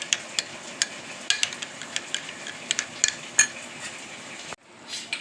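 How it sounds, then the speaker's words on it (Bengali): A spoon stirs Kashmiri red chili into sour yogurt in a bowl, giving a series of irregular light metallic clinks and scrapes close by, ending in a brief pause. "টক দইয়ের উপরেই আমি একটু লাল কাশ্মীরি লঙ্কা একসঙ্গে গুলিয়ে নেব"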